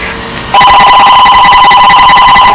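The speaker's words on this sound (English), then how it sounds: "Let me go get the phone." A telephone starts ringing suddenly with a loud, steady electronic trill that carries on for about two seconds after a quieter lead-in, with no talking.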